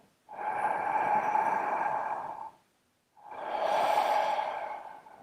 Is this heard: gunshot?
no